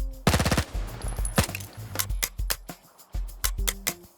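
Automatic gunfire from a rifle in the video game S.T.A.L.K.E.R. 2 rattles off in several short, rapid bursts with brief pauses between them, sharp and close with a high rate of fire.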